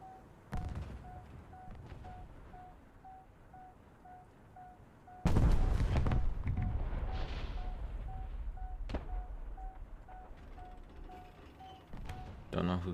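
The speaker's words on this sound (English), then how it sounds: "Don't know who he's shooting at." Gunfire and heavy booms in a video game, with scattered sharp shots, a loud blast roughly halfway through followed by a rumbling tail, and a steady tone running underneath while someone talks.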